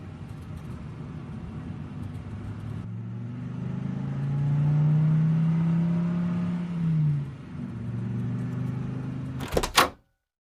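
A cartoon car drives along a road as an animated sound effect, its steady engine drone and whir swelling in the middle and then settling, ending with a brief sharp burst before cutting to silence.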